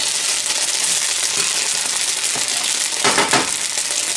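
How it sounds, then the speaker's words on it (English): Softened cream cheese being stirred in a pan as it melts, a steady close sizzle with scraping spoon strokes and a louder burst of stirring near the end. "You're going to want to constantly be stirring this so it doesn't burn on the bottom of the pan"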